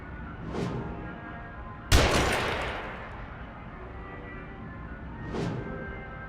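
A single sharp gunshot from an enemy in the horror video game The Evil Within cracks loudly and rings out in a long decaying tail, set between softer whooshing swells in the game's ambience.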